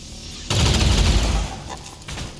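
Burst of gunfire aimed at an enemy trooper in the tactical game XCOM Long War of the Chosen, a loud, dense volley lasting about a second, followed by a fading tail and a smaller crackle.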